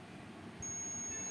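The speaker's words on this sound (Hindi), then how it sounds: "मल्टीमीटर की बीप आ रही है" Steady high electronic continuity beep from a multimeter as its probes touch an NTC thermistor, starting partway through and holding without a break over a low background hum.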